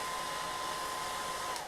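A hair dryer blows steadily for styling a cosplay wig, a continuous close airy whir with a faint tonal whine that holds unchanged throughout.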